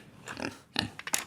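A pig grunts and oinks in a short burst of several snorting calls at close range, fairly loud, with no speech over it.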